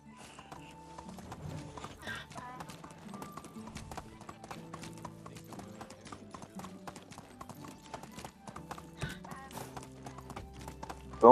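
Donkey hooves clip-clop in steady rhythmic footfalls in the video game Medieval Dynasty, close and fairly loud, with a brief whinny-like call among them and a voice talking over the walking.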